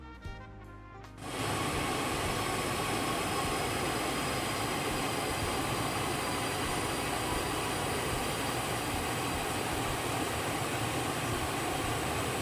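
Challenger 650 business jet engines whine and rumble steadily while the aircraft taxis, a loud constant broadband roar after a brief quieter start.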